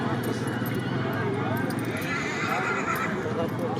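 Horse galloping at a tent pegging event, a steady drumming of hoofbeats with a neigh, heard amid a loud outdoor crowd and an announcer talking over it.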